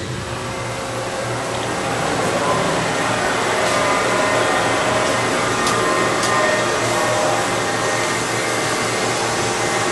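Compressed air flows into a 66-inch Producto CNC vertical drill and bore machine, a loud, steady broadband hiss with a low hum that runs unbroken and close for the whole stretch.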